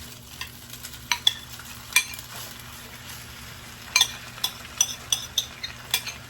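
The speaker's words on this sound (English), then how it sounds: "Alright, throw some of these beans in here." Canned beans with their juice go into a pan of browning sausage, giving scattered sharp clinks and scrapes of a spoon over a soft, steady background sizzle, with no talking.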